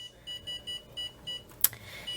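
An oven control panel gives a series of short, regular electronic beeps while being switched on to 400 degrees, followed by a single sharper, higher chirp, close and fairly quiet in a home kitchen.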